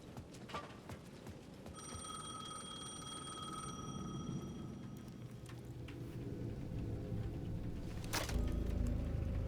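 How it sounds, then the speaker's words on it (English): Payphone ringing in the video game Alan Wake 2, set at the edge of a plaza: a repeated electronic telephone ring sounds out clearly over a low ambient game soundscape, with no voices. "The payphone at the edge of the plaza was ringing again."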